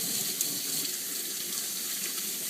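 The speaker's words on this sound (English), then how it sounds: "So I just make sure I wash them off." Red potatoes are washed under a running kitchen tap, a steady, close hiss of flowing water splashing into the sink with no break.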